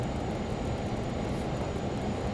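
Lear Jet engines spooled up to takeoff power in a flight simulator, a steady loud broadband roar with a thin high whine above it, continuous throughout with no talk.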